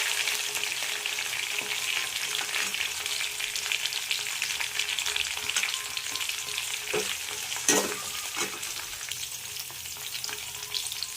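Cashew nuts fry in a pan for dal rice, a continuous crackling sizzle with occasional stirring scrapes and one sharper clatter near the end, steady and fairly loud with no talking.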